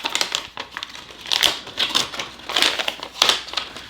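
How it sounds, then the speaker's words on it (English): Iron-on mesh sheet folded and creased by hand, giving close, repeated crinkling and crackling bursts in an uneven rhythm with short pauses between them. "you can slightly fold and crease the edges of your"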